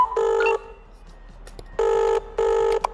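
In a VR plumbing safety game, a telephone rings in three evenly spaced electronic bursts, steady and tonal, with quiet gaps between them and a small click near the end.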